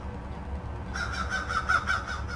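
Pet birds call outdoors in Florida, a run of harsh, rapidly repeated cries that starts partway through and carries over steady low background noise.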